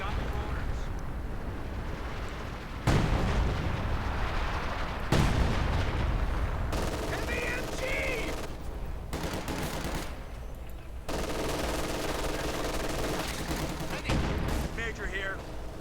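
A major artillery strike in Company of Heroes 2, with heavy booming impacts and rumbling blasts hitting in a rapid barrage over a continuous battle din, with no talk over it.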